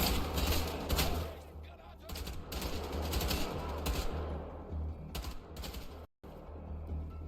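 Dual-wielded assault rifles fire in Wolfenstein: The Old Blood, dense, rapid automatic bursts rattling almost continuously with a brief cut near the end, a voice talking over the gunfire.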